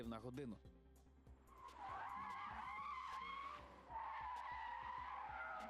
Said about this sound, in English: you need to be able to make a police turn, and this is at a speed of almost 70 kilometers per hour